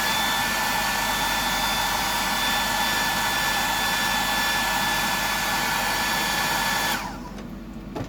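A handheld dryer blowing over wet paint, a loud, steady close whir running unbroken for about seven seconds before it switches off and drops to quiet.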